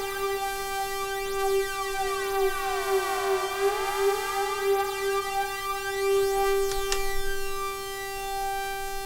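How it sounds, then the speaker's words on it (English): A Roland SH-01A synthesizer tone fed through an analog flanger pedal with high resonance: a sustained, buzzy, harmonically rich note with swooping, jet-like sweeps rising and falling across it, steady and fairly loud, with no talk. "Now resonance is what makes this flanger pedal sound so rich."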